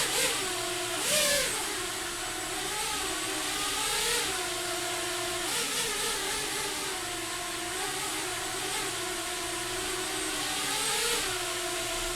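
STM32-controlled drone motors whir steadily and loud, their pitch rising and dipping repeatedly as the throttle is pushed up and eased back, with no pauses throughout.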